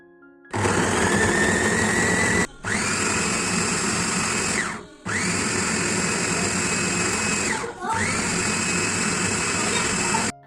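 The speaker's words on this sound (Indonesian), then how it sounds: "tadi aku menghaluskan bumbu seperti biasa pakai chopper andalan aku dari Ideal Life" An Ideal Life electric chopper grinds chili, ginger, onion and a little water into spice paste in four loud, steady whirring bursts, each stopping briefly before starting again.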